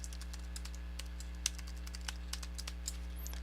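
A computer keyboard clacks as a username and password are entered, a quick irregular run of soft, close keystrokes over a steady low electrical hum.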